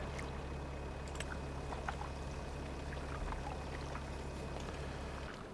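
Diesel fuel pours steadily into a big vehicle's tank in a farming video game, a constant even rushing hiss over a low steady hum that fades slightly at the very end.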